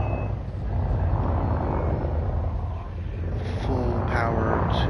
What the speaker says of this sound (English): I launch, vertical thrust